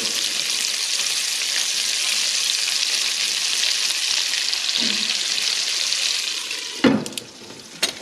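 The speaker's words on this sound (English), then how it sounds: "you can use that bacon grease to cook your potatoes" Potatoes fry in hot bacon grease in a pan, giving a steady, loud, close sizzle that runs unbroken, then a few clanks of a lid or utensil come near the end.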